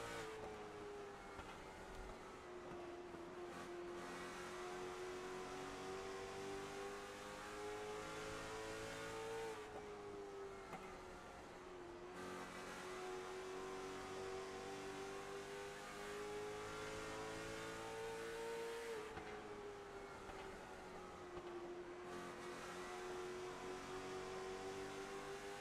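A late model stock race car at Kern County raceway, heard onboard with driver Justin Brooks, drones loudly and continuously, engine revs dropping into corners and climbing back down the straights in a steady repeating cycle.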